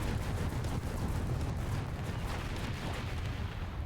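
Artillery in War Thunder pounds continuously during an interwar French tank battle, a dense, loud barrage of overlapping booms and rumbling impacts with no pause.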